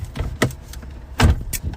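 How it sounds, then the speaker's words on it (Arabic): A door is shut with several short knocks and clunks of handling, a sharp closing thud near the end, close and fairly loud, with no talk. "سكر الباب بس."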